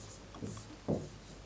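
Chalk or marker scratches on a classroom board in two short strokes, faint and close, amid quiet room noise.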